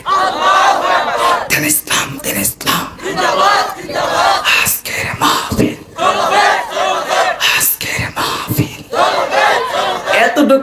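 A large crowd at a Bangladeshi Islamic religious gathering shouts a loud, rhythmic takbir chant in repeated surging bursts, voices massed and close, filling the whole stretch with brief pauses between call-outs.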